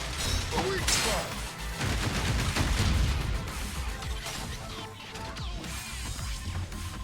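Gunfire rattles through a Zenless Zone Zero battle in a dense, continuous barrage with heavy impacts and crashes mixed in. It stays loud and busy throughout, with no pause.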